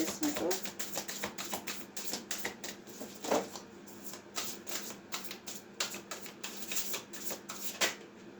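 Tarot cards shuffled and drawn during a mediumship reading: a steady run of quick, close paper riffles and flicks with sharp snaps, plus scattered soft taps, continuing without pause.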